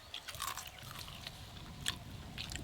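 Crunchy Bombay beguni, a large fried eggplant fritter, being bitten and chewed close up, with irregular crisp crunches and a few sharper bites standing out over a soft background hum.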